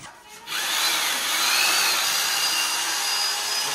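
A kuchi mixing machine in a Bangladeshi home kitchen runs steadily for several seconds with a loud, even motorized whine and hum. It starts up after a brief quieter moment.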